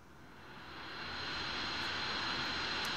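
A jet aircraft engine whines and roars inside a flight simulator game, a steady broadband hum that swells in the first second and then holds at a fairly quiet, even level, with no voices.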